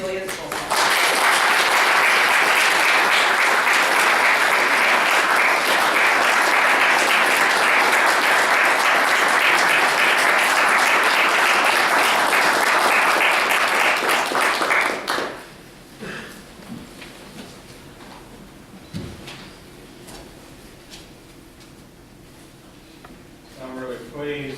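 A symposium audience breaks into sustained, loud applause for a keynote speaker, the dense clapping running about fifteen seconds before it cuts off and gives way to a quiet room with faint rustling and a few small knocks.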